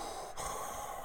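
A voice imitates Darth Vader's mechanical breathing apparatus: a single steady, hissing breath sound, close and fairly loud, lasting about a second with no talk.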